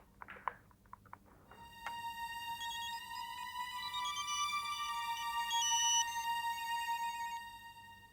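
A mobile phone rings unanswered, its electronic ringtone melody looping steadily and fairly loud for several seconds after a few soft clicks of dialing, with no voice picking up.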